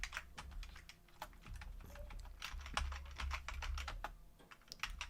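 Rapid, uneven clatter of computer keyboard keys pressed while playing the Hunchback arcade game, steady and close throughout with no voices.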